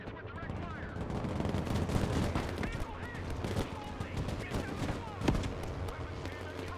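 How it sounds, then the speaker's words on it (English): Dense, continuous gunfire and artillery rumble from a modern real-time strategy video game, rapid bursts layered under a busy battle soundscape with a sharper blast near the end, voices talking over it. "Engaging targets with direct fire."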